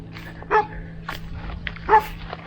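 A single dog barks behind a fence in Greece, two distinct barks about a second and a half apart, mid-distance and moderately loud over a faint outdoor background hum.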